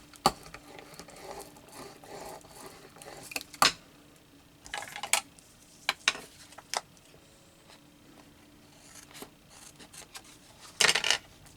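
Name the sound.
scissors cutting paper for a collage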